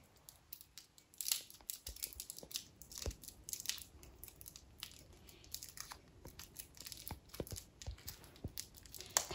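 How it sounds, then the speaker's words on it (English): Plastic packaging around Sakura SumoGrip block erasers is torn and crinkled open up close, a quiet run of sharp rips and crackles in irregular bursts with no talk. "Kind of got to tear it apart."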